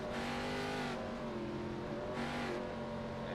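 Race cars accelerating at Talladega in a racing video game, a loud, steady engine roar with pitch rising and falling in waves, close and continuous.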